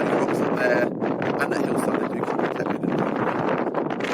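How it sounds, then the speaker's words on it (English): Strong, steady wind roars across an exposed hillside by the Woolpacks on Kinder Scout, buffeting the microphone with continuous gusty rumble and rustle throughout. "it's still quite blowy, as you can probably hear"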